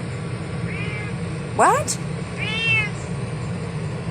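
A house cat meows several times, short bright cries spread across a few seconds, close by, with a person's voice talking to it in between.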